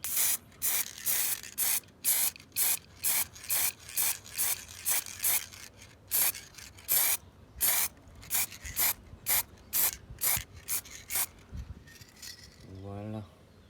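Spray paint hisses onto the windows of a Pac-Man handheld electronic game in a run of about twenty short, evenly spaced bursts, close and crisp, ending with a faint rising whine.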